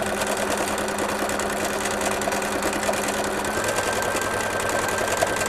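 A sewing machine running with cream-colored thread, free-motion filling in areas on a fancy winter apron: continuous, even mechanical hum and rapid needle chatter up close, steady throughout without pauses.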